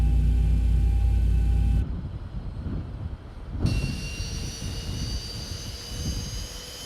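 Engine 2 of a Ryanair jet spooling up in a flight simulator, a low, loud rumble that shifts abruptly into a rising hiss and whine, with a steady, growing roar after that.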